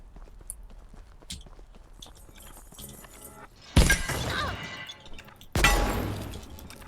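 A pistol breaks in the video game Abiotic Factor, with light clicks and footstep-like taps, then a sudden loud shattering crash followed by a second harsh breaking burst.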